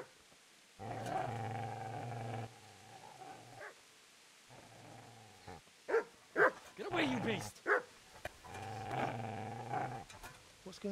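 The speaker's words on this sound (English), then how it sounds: "I think we need to find the dog that's barking." Dog barking and growling in the medieval role-playing game Kingdom Come: Deliverance, a feral dog giving several sharp, loud barks in bursts between stretches of game music.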